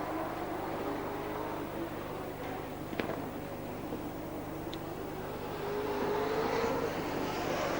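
Sprintcars race around Speedway City in Adelaide, their engines a continuous, fairly distant roar with rising and falling revs as cars pass.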